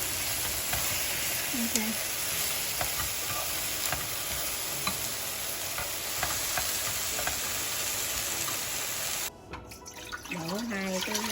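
Marinated mushrooms stir-frying in a pan for a vegetarian sweet and sour tofu soup, a continuous close sizzle with stirring, ending with running water and a brief spoken word.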